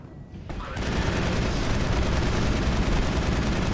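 Sustained automatic gunfire in the Mass Effect video game, a dense, loud, unbroken barrage that starts abruptly after a brief quieter moment and continues without pause.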